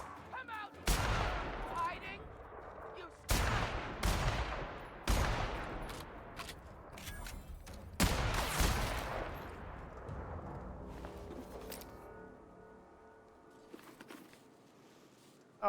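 Enemy gunfire in a sci-fi shooter video game: repeated loud, sharp gunshot blasts with booming tails, spaced a second or two apart, then a scattered rattle of quieter shots and clatter fading out, with some voice underneath.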